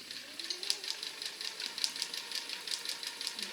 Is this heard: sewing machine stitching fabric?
yes